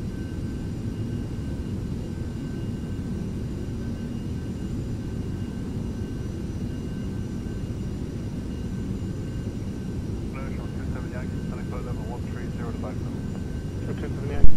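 Steady, droning whine of the Beech Premier's jet engines in the Eurofly flight game, constant and unbroken throughout, with faint chirping tones near the end and a brief bump at the very close.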